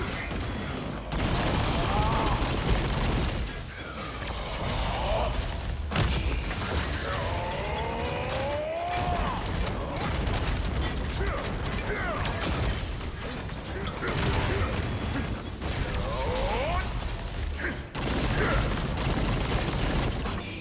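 Missile Barrage artillery skill firing in Lost Ark, a long run of rapid mechanical clatter and repeated explosive thumps, loud and continuous, with someone talking over it throughout.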